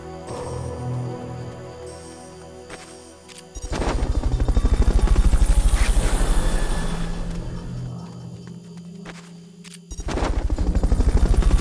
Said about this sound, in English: Fulton recovery helicopter is